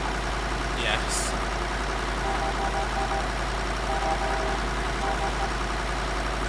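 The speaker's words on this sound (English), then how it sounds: "We're driving tractors." A tractor engine in Farming Simulator 2013 idles with a steady, continuous mid-pitched hum and knocking rumble, with players talking over it.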